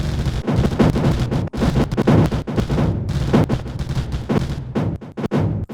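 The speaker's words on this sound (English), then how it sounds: "Let's watch stuff explode." Loud, dense booms and turret fire from the game Mindustry pound continuously, overlapping blasts and rumbling explosions with only brief gaps, no voices.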